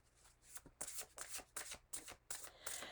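Tarot cards being shuffled by hand in a quiet room, a quick run of crisp riffling bursts that repeat about every half second, close and fairly loud with no talking.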